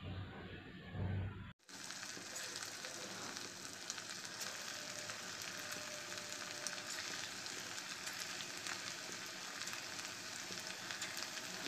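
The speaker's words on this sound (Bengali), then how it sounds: "আর এখানে দেখো তেলের মধ্যে আমি ম্যারিনেট করা চিকেন টুকরোগুলোকে এক এক করে এর মধ্যে দিয়ে দিচ্ছি" Marinated chicken pakora pieces, coated in gram flour batter, drop into hot oil and fry with a dense, steady crackling sizzle. It starts after a brief quiet moment and carries on evenly, close by and loud.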